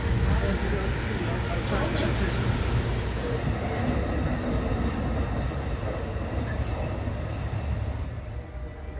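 A train pulls into Rockville station in Maryland with a loud, close rumble of wheels on rails and high squeals of braking steel near the end, while an announcement and voices sound over it.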